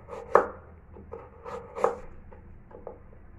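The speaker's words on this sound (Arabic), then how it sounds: "غادي نقطع كله خيزو بهذه الطريقه هكا" A knife chops carrots on a board in a few firm, spaced strikes, two louder than the rest, close and clear against a quiet room.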